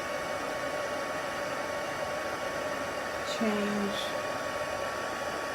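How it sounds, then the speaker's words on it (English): A heat tool blows steadily on a closed container, a continuous airy whoosh like a hair dryer running throughout, with a brief spoken word partway through. "blow it with the heat tool"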